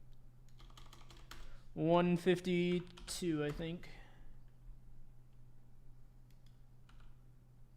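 Fingers tap on a computer keyboard in faint, scattered clicks, mostly buried under a person talking nearby.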